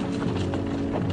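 Horses of a Spanish cavalry charge at the siege of Lima, a dense continuous rumble of many hooves clattering together, steady and loud with no gaps and no voices.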